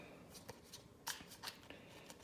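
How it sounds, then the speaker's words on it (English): A deck of cards is shuffled for a NATO air commander board game, producing soft, fairly quiet riffling and a few sharper card snaps and slaps in quick bursts. "And then I shuffle the deck."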